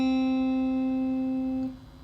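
A single guitar note on the B string fretted at the first fret rings clean and steady for about two seconds before fading, moderately quiet and alone.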